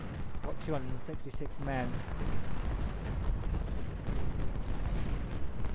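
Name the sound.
artillery guns firing in video game Ultimate General Civil War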